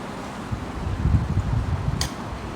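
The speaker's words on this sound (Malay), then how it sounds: "Tolong tutup kipas ni boleh?" An electric fan runs steadily nearby, giving a continuous low whooshing hum with faint rustle, and one short sharp click near the end.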